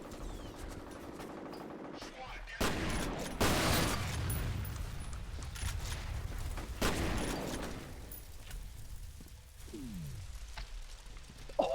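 Gunfire from F.E.A.R. rattles in several loud automatic bursts and volleys, separated by quieter gaps and ending in a faint trailing tail.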